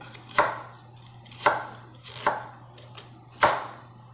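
A knife cutting the white lining off turkey necks, four sharp separate chops at uneven intervals against a board, close and clear, with a low steady hum beneath and no talking.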